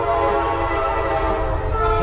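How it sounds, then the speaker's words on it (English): A train rumbles past close by, its horn sounding as a steady, loud chord over the heavy rolling roar of the cars. "oh, that's a nice sounding train"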